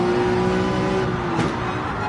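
Ferrari 458 race cars launching from a grid start in Gran Turismo 7 on the Dragon Trail track, a loud dense pack of engines roaring at high revs with a brief rising whoosh as cars surge past.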